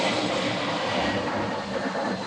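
A jet airliner passes overhead beneath the Sydney flight path, a broad steady roar that fills the room evenly throughout with no speech.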